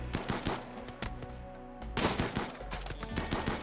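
Musket volleys and cannon fire crack through a video game battle in rapid, uneven bursts of sharp reports. After a brief lull comes a denser barrage, all moderately loud and without talk.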